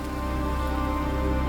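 Rain falling steadily, a continuous moderate wash of drops with an even, unbroken texture and a low hum beneath, heard alone without any voices.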